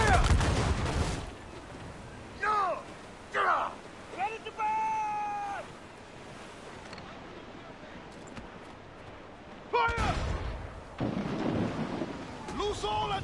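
Cannon fire from a sailing warship in Assassin's Creed: Freedom Cry, with loud booming blasts near the start and again around the ten-second mark, thunder-like rumbles between, and shouted voices over the sea-battle noise.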